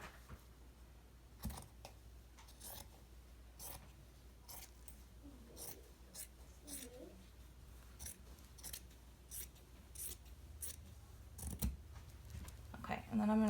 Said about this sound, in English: I'm gonna cut these little bits off here, off the end